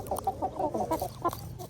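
Hens on a small family egg farm cluck in a rapid, uneven series of short calls over a low background hum, nearby and moderately loud.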